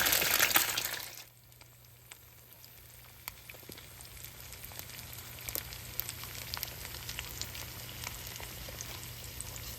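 Fresh farm eggs sizzle in a pan, a loud burst of frying at first that settles into a quiet, steady crackle with scattered pops.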